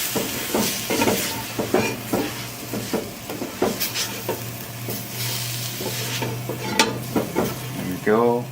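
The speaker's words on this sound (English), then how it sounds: "Stir that in." Spiced beef is stirred in a pot, a spoon scraping and knocking in repeated irregular strokes over a steady sizzle and low hum, close and clear with no talking.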